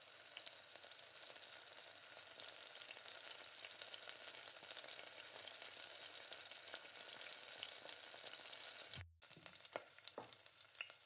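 Semolina (rava) being stirred with powdered sugar in a pan on the stove for rava laddu: a steady, close grainy hiss and scrape with a brief break near the end.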